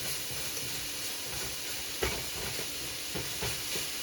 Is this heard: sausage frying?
yes